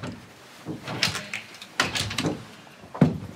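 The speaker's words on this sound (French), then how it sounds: "Les portes de la salle de bain." A bathroom door in a Paris palace hotel being worked, with several close knocks and rattling bumps spaced over a few seconds as the door swings and clicks.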